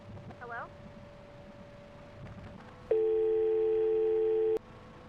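A telephone in a video game call center goes dead after a brief hang-up, leaving a steady, loud electronic dial tone that holds for about two seconds after a short click and some faint background chatter.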